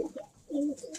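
A red checker pigeon with heavy blue flecking in its tail coos softly nearby, two short throaty coos with a quiet pause between them and no talk.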